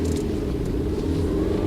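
A car engine rumbles steadily in a low, continuous drone, close and fairly loud, with no talk over it.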